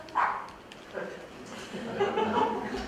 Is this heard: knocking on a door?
no